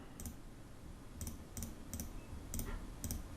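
Computer mouse clicks during poster design work in Canva: six sharp, quiet clicks spaced irregularly, heard alone over faint room hiss.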